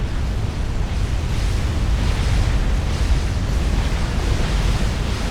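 Bombs exploding in the strategy game Supreme Commander make a dense, loud, continuous rumbling roar with no distinct individual blasts.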